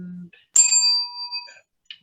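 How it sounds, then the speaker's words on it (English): A small hand bell rung by an actor during a Zoom lockdown play gives one bright ring that lingers and fades for about a second. A brief voice comes just before it, and faint sounds follow. "Pascal, can we not do the bell all the time"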